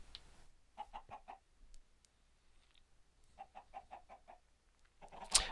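Minecraft chickens cluck in quick bursts of short notes, two clear groups separated by quiet, with a louder scrape at the end.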